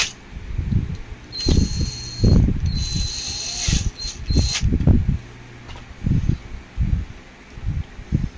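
Parts of an Usha table fan being screwed back together: a run of close, irregular clicking and ratcheting bursts from the screwdriver and plastic housing, with brief scraping squeaks between them.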